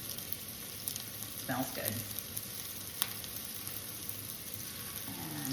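Meatballs being rolled and browned in a frying pan, a steady low sizzle running throughout with a few soft clacks from turning them, while a person briefly speaks over the cooking.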